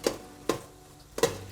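Garlic, onions and pepper being sautéed for a cabbage and sausage dish are stirred in a pan, giving three distinct scraping clacks of a utensil against the pan over a low, quiet sizzle.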